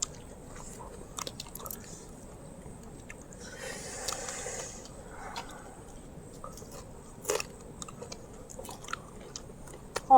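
People eating freshly caught small fish with rice: quiet close chewing with soft wet squishes and occasional sharp crunchy bites scattered over ten seconds, no talking.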